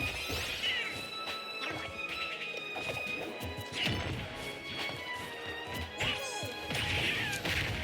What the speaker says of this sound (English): I think that's the first up smash we've seen from Myles this set